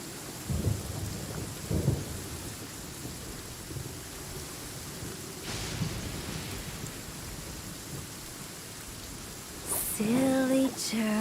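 Rain falls steadily in a Genshin Impact storm, broken by a few low thunder rumbles near the start and a crack later on, with game chimes and effects near the end.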